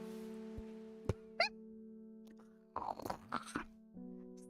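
A carnivorous plant in the game Strange Horticulture crunches on its prey: a few scattered crisp snaps, then a cluster of wet, chewing crunches over a steady low background drone.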